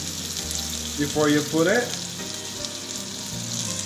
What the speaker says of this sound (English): I've sliced cubes of butter, so that's going to be our oil to use for frying the flounder.